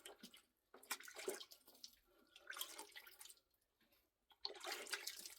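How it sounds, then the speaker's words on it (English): Water splashing and running as hands are rinsed during rabbit butchering on a farm, coming in several bursts of close splashing separated by quieter gaps. "so I'm going to rinse my hand before I go any further"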